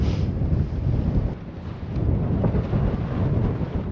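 Steady, heavy wind rumbles and buffets the microphone with a dense low roar on an exposed Brecon Beacons hillside where an X-Mid Pro tent is being pitched, gusting continuously with no voices.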